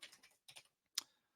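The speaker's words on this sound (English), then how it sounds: "I'm going to type in primary product ID" Typing on a computer keyboard: a quick run of soft key clicks, a brief pause, a second short burst, then one sharper, louder keystroke, all close up in an otherwise quiet room.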